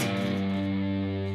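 Electric guitar with the ring finger on the 4th fret of the low E string and the other strings muffled, struck with a single upstrum that rings out as a thick, distorted sustained note, heard alone.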